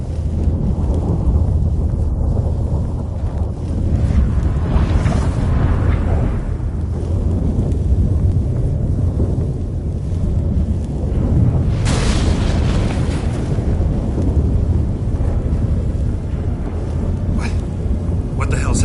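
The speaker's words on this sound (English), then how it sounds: "That a storm?" A storm with rolling thunder in The Witcher 3 video game: a dense, roaring low rumble lasts throughout, with a louder crack-like swell around the middle and wind-like rushing layered over it, loud and continuous.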